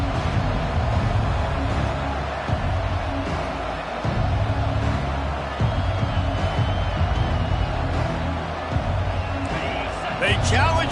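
Stadium crowd noise from EA Sports College Football, Utah at TCU, a constant loud roar of fans throughout with occasional thumps, running under continuous play-by-play commentary.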